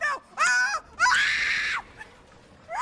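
A person lets out several loud, high-pitched screams in quick bursts with short gaps, close and intense, in a startled, frightened outburst.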